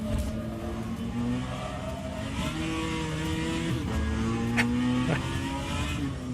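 Racing car engine in rFactor 2 on a wet track, droning steadily with rising and falling revs through gear changes, continuous and fairly close with no talk.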